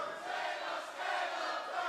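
A wrestling arena crowd roars and cheers during a four-way match between Ricochet, Cedric Alexander, John Skyler and Caleb Konley, a steady, fairly distant wash of voices swelling slightly midway.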